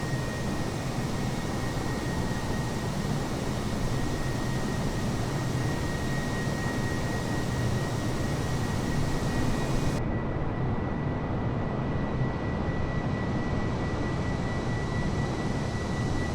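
An airliner's engines drone at cruise in Microsoft Flight Simulator, a steady broadband roar with a faint constant tone that cuts off sharply near the end, leaving a quieter hum.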